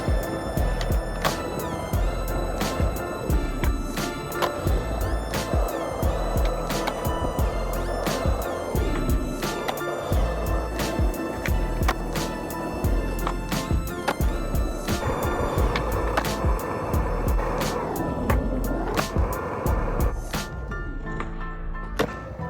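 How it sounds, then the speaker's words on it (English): Skateboard rolling over pavement with repeated sharp board slaps and wheel landings from frontside shove-it tricks, steady clattering throughout at close range. "I'm gonna do some front shoves, but it's in different angles"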